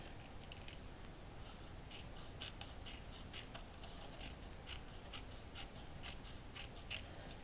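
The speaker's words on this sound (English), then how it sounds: "we need to cut out all these small flags here. That's a lot of cutting." Scissors snipping out small paper flags, a steady run of quick, close, crisp cuts with short pauses between, no talking.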